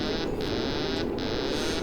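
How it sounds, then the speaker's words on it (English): An alarm tone sounds in a Kerbal Space Program spacecraft as the ground proximity alert goes off. A loud, steady electronic tone is broken by two short gaps and plays over a constant hum. "Oh, what's this? Ground proximity alert."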